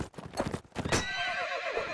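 Horse hooves clip-clop at a gallop with a loud neigh and whinny in a medieval combat video game, steady hoofbeats giving way to a long, wavering whinny.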